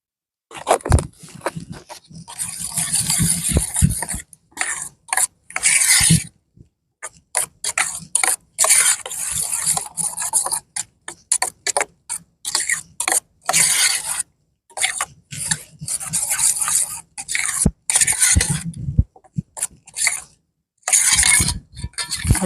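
Dahi raita being stirred with dried chilli and salt, a spoon clinking and scraping against the bowl in a steady, busy run of close clatters with short pauses, no talk.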